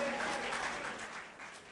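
Sparse applause from a comedy show audience, a thin scattering of claps that fades slightly toward the end, heard alone without talk.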